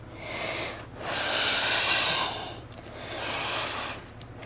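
Audible breaths during a core-strength yoga vinyasa flow come close and alone, two long airy exhales through the nose, each swelling and fading with a short pause between.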